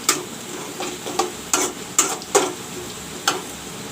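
Chopped onion browning in a pan for a rohu masala fish curry, with a faint low sizzle broken by about six sharp, separate spatula taps and scrapes at an uneven pace. No voices.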